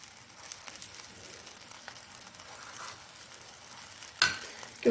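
Chickpea koftas made with gram flour, onion and green coriander sizzle steadily as they fry in a pan, a soft continuous crackle with occasional stirring and a sharper clatter near the end.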